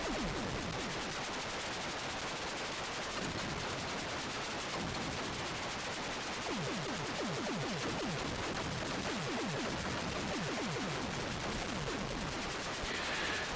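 Continuous rapid shooting in the Atari 8-bit space shooter Warhawk, a loud relentless stream of electronic gunfire bursts with descending zaps layered over it, no voices.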